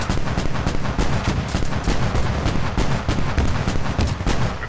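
Dense, continuous gunfire from multiple positions in a tactical shooter match on the Kohat map, rapid overlapping shots and heavy blasts filling the whole stretch at close range with no talk.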